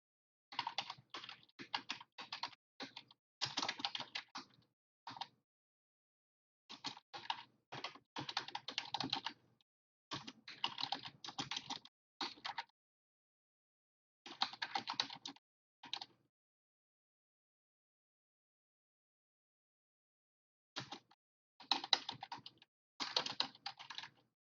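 Rapid typing on a computer keyboard in bursts of clattering keystrokes separated by silent pauses, close and fairly quiet, with no voices.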